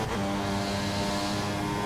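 A turbo V6 Formula 1 engine revs hard in F1 2014 during the British Grand Prix, a close, loud, continuous racing whine that holds for the whole moment without any voices.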